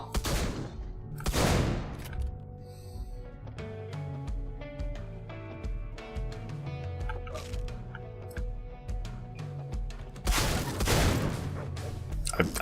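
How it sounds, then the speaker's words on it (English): Loud booming blasts of shotgun fire in the video game Deadbolt, two bursts at the start and another pair near the end, over continuous game music. "because these are shotguns"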